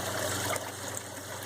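Water from an aquaponics return line, draining off towers, tubes and planters, trickles and gurgles in a steady low stream, close and fairly quiet, with a faint pump-like hum underneath.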